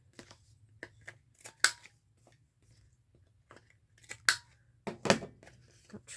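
Scissors snipping labels off thrifted clothing, several separate crisp cuts spaced irregularly with quiet pauses between, a couple of louder snips and a quick cluster of cuts near the end, close by with no talking.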